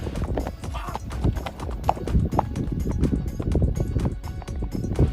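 Horse ridden at a run by Nirahua, hooves clip-clopping in a fast, steady, loud rhythm close by, with faint voices in the background.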